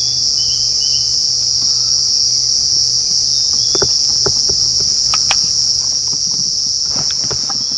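Cicadas shrill in a constant, overwhelming high drone at an African game reserve, loud and unbroken, with scattered soft clicks and taps underneath and no talking.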